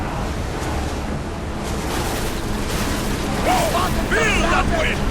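Rushing wind and breaking sea waves around a ship in Assassin's Creed Odyssey, a loud continuous roar with shouted voices and brief cries rising near the end.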